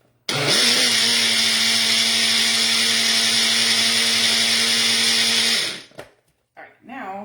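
Blender whirring loud and steady for about five seconds as it blends a dressing with taco seasoning, then cutting off, followed by brief rustling.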